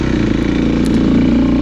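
Dirt bike engine droning steadily up close while climbing a rocky section of singletrack trail, a continuous mid-pitched throb with slight throttle variation and no pauses.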